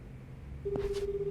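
Telephone being dialed in the video game Like a Dragon Gaiden: one short key tone followed by a steady electronic tone that holds over low background hum.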